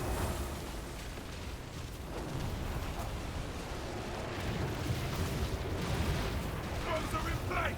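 Ship cannons booming in a naval battle in World of Warcraft, the Battle of Dazar'alor, mixed into a dense, continuous roar of gunfire and explosions with faint voices underneath.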